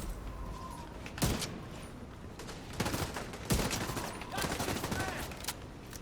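Rifle fire in The Division 2 during a dust storm: several sharp gunshot bursts crack out at irregular intervals over a constant windy, gritty background roar, with no talking.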